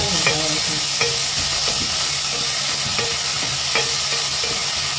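Onions frying in hot oil as a tempering for Konkani pomfret caldine curry, a steady close sizzle with occasional scrapes and clinks of a stirring spoon against the pan.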